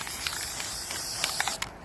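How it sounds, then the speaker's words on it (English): A can of hammered-finish spray paint hissing in short, repeated bursts close by, with steady spraying broken by brief pauses near the end. "I have other things that I want to spray paint with this hammered stuff"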